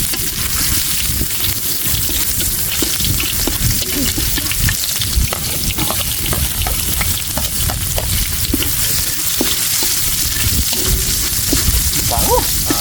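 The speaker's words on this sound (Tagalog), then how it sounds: "Siyempre, gisa na tayo." Food sautés in a hot pan during backyard cooking, giving a loud, steady, dense sizzle with stirring scrapes and bubbling all the way through, while a voice talks faintly underneath.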